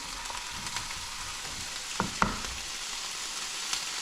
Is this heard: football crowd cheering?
no